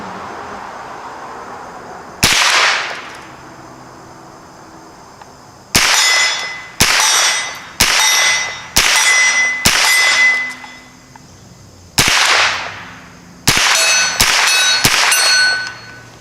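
Smith & Wesson M&P15-22 rifle shooting steel targets at 50 yards: a string of sharp, loud shots, each followed by a ringing metallic clang, arriving in irregular bursts with short gaps between them.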